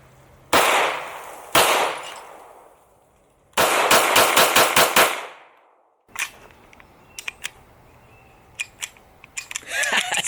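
A handgun firing at a shooting range: a couple of single loud shots, then a fast rapid burst of several reports, followed by quieter clicks and metallic handling noises as the gun misbehaves.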